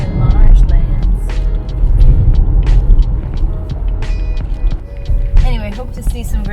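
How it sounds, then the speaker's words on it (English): A car drives toward marshlands, with a steady low road and engine rumble running throughout and some faint tonal sounds over it. "We're driving to marshlands now"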